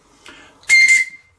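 A big whistle is blown, first a faint breathy attempt, then a loud, clear, shrill tone that holds for about half a second and tails off, no talk.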